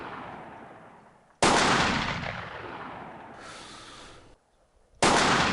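Rifle gunshots in the military shooter America's Army: two sharp, loud reports, each followed by a long rolling echo that fades over a second or more.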